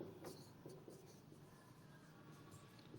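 A black pen writing on a surface, with quick scratchy strokes in short bursts followed by a longer steady scrawl, close and quiet with no talk.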